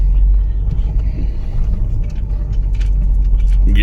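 A car creeps down a steep hill road in low gear in Uttarakhand, its engine a steady, close rumble that holds constant throughout with no talk over it.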